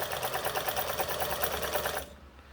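A Necchi 536Fb all-metal sewing machine runs a long straight stitch, its rapid even needle clatter steady and close for about two seconds before stopping abruptly.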